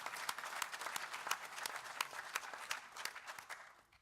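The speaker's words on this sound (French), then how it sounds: "je voudrais qu'on puisse acclamer très chaleureusement" Audience at the official opening of the Eurafric 2012 forum in Lyon applauding warmly, dense sustained clapping from a crowd that tapers off near the end.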